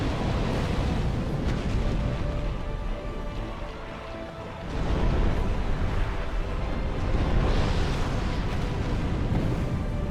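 A boss's fire-breath attack in Dark Souls II roars as a loud, sustained whooshing rush that dips briefly midway, then surges back at full strength, with no talking.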